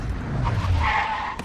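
A car skids to a stop with a short tire squeal and a rough scrub of rubber on the road, over in about a second.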